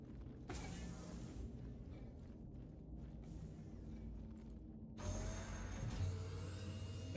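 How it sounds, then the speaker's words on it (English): A ship elevator being lowered in Star Citizen gives off mechanical creaks, clunks and a low whirring hum, with a heavier clank partway through and a shifting machine drone afterward; no talk. "Maybe I should put the elevator down, actually, before we go in the hangar."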